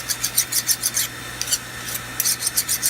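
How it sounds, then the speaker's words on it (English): A steel fire striker being filed with a hand file, steady rhythmic rasping strokes close up, with a short pause midway before the strokes resume. "let's do a little file test on it."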